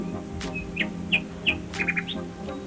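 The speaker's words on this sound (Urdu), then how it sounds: "چڑیا کے بچے ڈر کر چہچہانے لگے" Sparrow chicks in an animated story chirp in fear: several short, high, bright chirps that come at uneven gaps, a quick triple at the end, over a steady low background hum.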